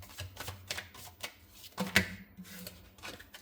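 Tarot cards riffled and shuffled by hand, then single cards slid out and drawn from the deck; a run of quick, crisp papery flutters in bursts with brief pauses, close and clear, no talking.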